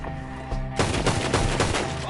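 Gunfire in Red Dead Redemption 2 comes as a short burst of loud, overlapping shots. A single blast is followed after a brief gap by rapid repeated cracks over a continuous game background.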